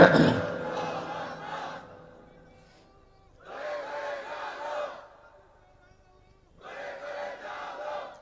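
Large crowd at an Islamic religious sermon gathering shouting the takbir in unison, three loud roaring bursts separated by short pauses, echoing through a public address system.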